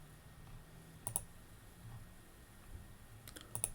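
Computer mouse clicking while working in an Excel 2016 spreadsheet: a few soft, sharp clicks, a pair near the start and another cluster near the end, over a quiet room hiss.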